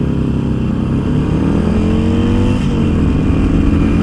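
A cruiser motorcycle engine, a Harley-Davidson Iron 883 or a Suzuki Boulevard, rumbles loud and close with steady revving that rises and falls slightly, never cutting out, with no voices over it.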